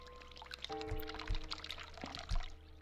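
Water running from a tap in the video game The Cat Lady, a steady soft pouring stream with a few brief low thumps, heard alone at modest level.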